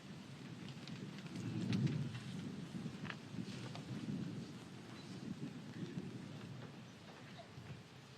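Thunderstorm over an outdoor Veterans Day ceremony at Arlington National Cemetery: steady rain hiss with a low, distant thunder rumble swelling early on, no voices.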